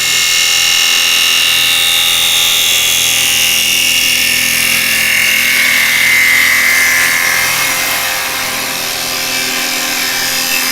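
A woodturning lathe whirs while a tool cuts thin wood on a Christmas craft piece, giving a loud, continuous high-pitched hiss and scrape that wavers slightly as the cut moves, with no voices.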